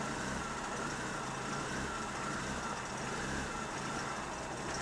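A Daewoo Matiz engine runs steadily, a loud, continuous mechanical drone with a low throbbing pulse, its rhythm shifting unevenly as it intermittently misfires.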